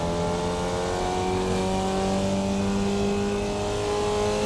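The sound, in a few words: Formula Vee engine downshifting with clutch blips, iRacing video game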